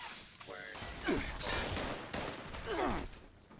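Bursts of gunfire from Fallout 76, with a couple of sharp shots standing out over busy game noise, while a voice talks over the action.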